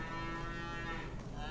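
Cattle on a farm in December give a drawn-out, steady low moo over a constant background rumble, with no talk.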